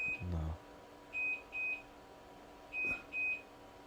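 Perimeter alarm in an underground bunker in South Miami: high electronic beeps in repeated pairs, evenly paced over a low hum of background noise, moderately quiet, with no speech.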